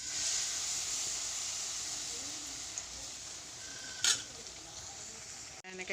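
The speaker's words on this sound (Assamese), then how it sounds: "এনেকৈ এটা এটাকৈ পিঠাখিনি পুৰি লওঁ দেই" Pitha fry one by one in hot oil in a wok, giving a steady close sizzling hiss throughout, with a brief clink of the utensil near the end and no talking.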